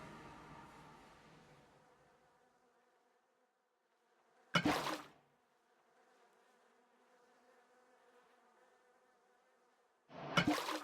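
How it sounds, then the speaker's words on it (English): Angry bees in Minecraft with the Cobblemon modpack buzz in a steady, faint drone for several seconds, broken by two abrupt, loud bursts of sound. "I'm about to make some bees pretty mad at me."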